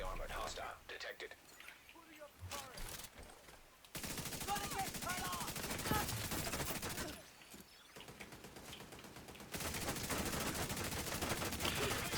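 Gunfire in the shooter game The Division 2, with sustained bursts of automatic weapons fire in long stretches and a quieter gap between them, while a voice speaks softly over parts of it.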